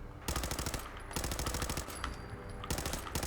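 Rapid automatic gunfire from the video game Fallout 4, loud bursts of close shots in three quick volleys with brief pauses between them, with no talk.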